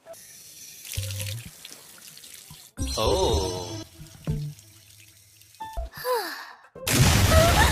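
Running water pours over someone's head to cool off, splashing in bursts under a brief startled exclamation, with a steadier gush near the end.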